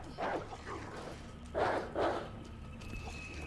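Dogs in the video game Resident Evil 2 Remake give three or four barks in short bursts, fairly close, over a low game background.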